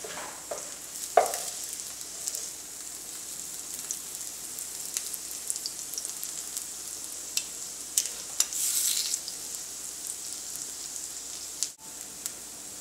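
French toast frying in a pan, a continuous close sizzle and crackle with scattered spatters and occasional scraping clicks as it is moved around.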